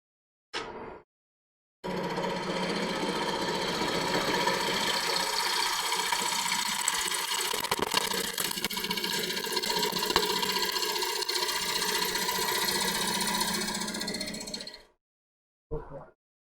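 A wood lathe spinning a bowl as a gouge makes a pull cut to trim the rim, a steady loud whirring and scraping hiss sustained for over ten seconds between brief quiet gaps.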